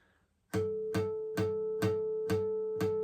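Six clear, chiming guitar harmonics on the A string ring one after another at an even pace, each a bell-like ping with a short sustain, close and alone.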